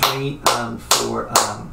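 Four close, even hand claps keep a steady eighth-note pulse while a voice counts the beats aloud over them.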